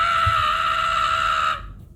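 A person's voice imitates the Ram Rider battle scream, holding one loud, sustained high-pitched cry for about a second and a half before it cuts off abruptly.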